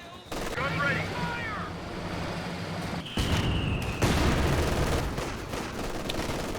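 Rumbling artillery and gunfire erupt through a video game battle, with dense sustained booms and crackling shots building toward louder impacts, while a voice speaks over the battle.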